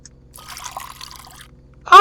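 Water trickles and pours into a coffee machine in the game Fears to Fathom, a thin splashing stream running for about a second before a louder burst at the end.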